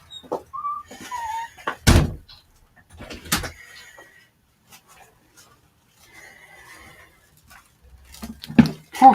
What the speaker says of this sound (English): I should probably close this door